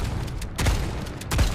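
Junker Queen's shotgun in Overwatch 2 fires two loud booming blasts, spaced apart at a slow rate, each with a sharp crack and a short rumbling tail.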